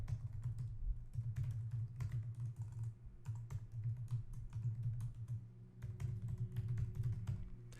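Steady typing on a computer keyboard while entering a software license key and details, close, rapid key clicks in bursts with brief pauses, no voice heard.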